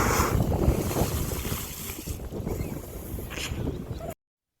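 Sea water splashes against a boat off Curacao, a loud rushing wash with wind buffeting the microphone, fading a little and then surging again before cutting off.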